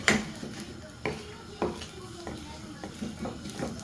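Eggs being mixed in a bowl in a home kitchen, a utensil clinking and tapping against the bowl in uneven strokes, close and moderately loud, with a voice briefly speaking.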